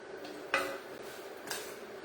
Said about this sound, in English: I am putting my spaghettis in there so they can finish cooking with all that deliciousness